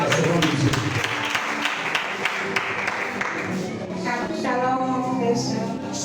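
A congregation at a French-language worship service applauding in praise of Jesus Christ, steady dense clapping with rhythmic accents, while a voice speaks or sings over it.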